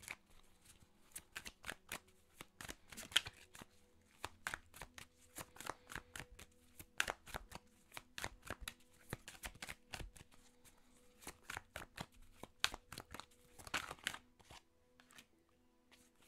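Oracle des Médéors cards shuffled and drawn for a relationship reading: a long run of crisp riffling, flicking card sounds in dense bursts, close and steady, with brief pauses, no talking.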